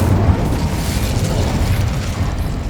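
A fiery blast from an Incendio fire spell in Hogwarts Legacy, a loud, dense whooshing burst of flame and crackle that fills the moment without a break and with no talk over it.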